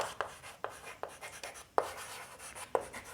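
Chalk tapping and scraping on a classroom board while an equation is written for a Class 10 maths lesson on linear equations, with five or six sharp taps spread irregularly among softer strokes and no talk.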